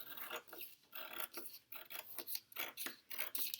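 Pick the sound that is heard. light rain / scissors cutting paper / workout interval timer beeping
scissors cutting paper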